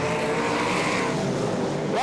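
V8 dirt modified race cars at Archerfield Speedway roar around the track as a loud, continuous engine blare with a rising whine near the end.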